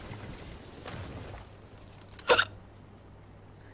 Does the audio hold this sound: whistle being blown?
no